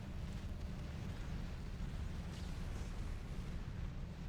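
Torrent units exploding in Art of War 3 battle: a continuous, dense low rumble with blasts blending into a steady roaring wash, loud and sustained throughout, no voices.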